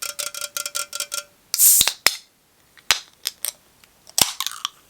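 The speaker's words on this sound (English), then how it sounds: "Let's crack a cold one." A can of Dr Pepper cracked open: a sharp pop and hiss of escaping fizz, preceded by a quick series of light metallic taps and followed by a few more clicks and clatters, close and crisp.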